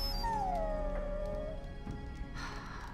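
A dog in the fantasy role-playing game Dragon Age: Origins lets out a single drawn-out, falling whimpering whine, fairly close and alone over a low steady game background.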